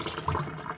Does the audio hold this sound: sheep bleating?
no